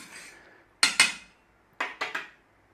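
A metal spoon stirs milk, sugar and instant yeast in a bowl, giving two pairs of bright clinks against the side with a short gap between them and no talking.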